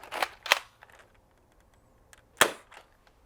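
An Ultra Four toy blaster fires a shot, giving sharp snapping cracks with a couple of quick mechanical clicks, close and loud, separated by brief quiet gaps.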